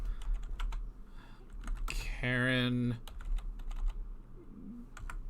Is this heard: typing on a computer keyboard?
yes